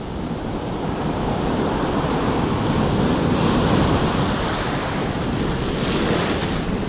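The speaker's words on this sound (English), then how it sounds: "we got some big waves rolling in here today" Big ocean surf waves rolling in on a foggy morning shore, a loud continuous roar of breaking water mixed with wind buffeting the microphone.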